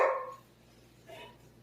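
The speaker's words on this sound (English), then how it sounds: "the dog's all excited about something" A dog barks excitedly in a kitchen where a meatloaf is being made: one loud, close bark opens the moment, then a fainter yip follows about a second later over a low steady hum.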